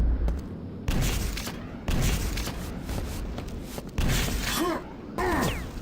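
Rocket launcher explosions in a Quake 2 1v1 match, a rapid series of loud booming blasts and impacts roughly every second, dense and close with sharp onsets and crackling debris.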